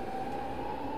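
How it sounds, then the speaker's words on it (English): A BART commuter train in a video game rolls along with a steady rumble and a sustained tonal whine, continuous and even throughout, with no voices. "He can get back on the BART train here."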